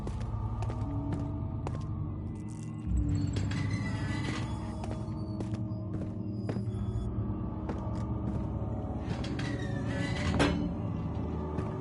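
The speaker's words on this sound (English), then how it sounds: "I think I'm gonna have to open that door up here" A door opening in Amnesia: The Dark Descent, with scattered creaks, clicks and knocks spread over a heavy, constant low ambient rumble and hum, plus a louder thud near the start and another near the end.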